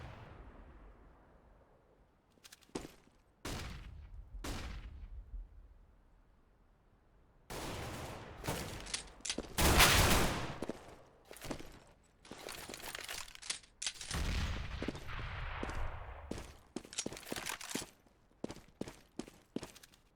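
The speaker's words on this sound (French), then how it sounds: "Et voilà qui va tomber sous la balle d'AWAP de Darkwing" Gunfire from a first-person shooter match, with sharp broadband shots and bursts scattered irregularly, a dense cluster of loud rapid fire in the middle, plus quieter footstep-like clicks between shots.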